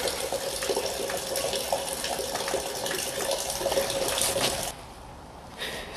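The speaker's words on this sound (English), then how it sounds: "I managed to drain some of the fuel while the tank was sitting up" Fuel drains steadily from the fuel tank of a 2005 Chrysler Grand Voyager, a continuous close splashing gush that cuts off abruptly toward the end.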